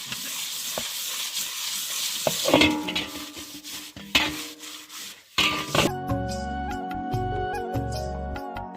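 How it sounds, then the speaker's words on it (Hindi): Pots being scrubbed by hand with coal and leaves outdoors in a Pahadi mountain village, steady rough rubbing and scraping strokes with a few louder clanks of metal, continuous and close, with no talking. "कोयले से और ऐसी प्रकृति की सुंदरता से प्राप्त जो हमें बांध के पत्ते मिले हैं, इनसे भी धोने का मौका मिलता है"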